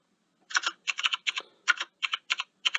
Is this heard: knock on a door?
no